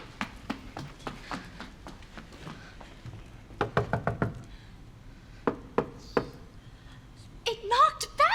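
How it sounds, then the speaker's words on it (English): Knocks on a door, a scattering of sharp raps in short uneven clusters, moderately close, with people talking quietly in between. "you knock on the door"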